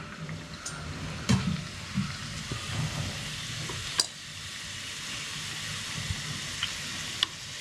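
Karanji, a stuffed sweet pastry, fries in hot ghee with a steady close sizzle and bubbling, broken by a few sharp clinks of stirring.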